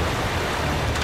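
Rushing water pours into a sinking ship in Uncharted 3: Drake's Deception, a steady broadband wash of flooding water with no speech over it.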